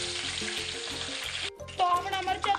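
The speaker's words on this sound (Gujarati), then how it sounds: "તેલ ગરમ થઈ ગયું છે તો સૌપ્રથમ આપણે મરચાં તળી લેશું" Green chilies fry in hot oil for Gujarati fafada with a dense, close sizzle that briefly drops away, then returns louder with bubbling and sputtering crackles.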